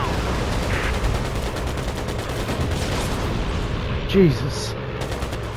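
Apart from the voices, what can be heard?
machine gun firing in video game Air Conflicts: Pacific Carriers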